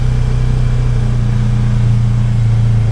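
A Trail Rider 570 side-by-side on Sunf tires climbs a hill, its engine holding a loud, steady drone with a constant low hum and no change in pitch.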